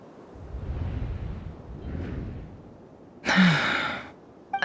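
A woman in an audio drama gasps, a sudden breathy intake of air that follows softer breathing and rushing noise, loud and close for about a second.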